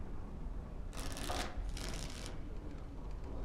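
Playing cards shuffled in the game Dragon Age: Origins, two quick riffling bursts of papery rustle close by over a steady low background hum, with no talking.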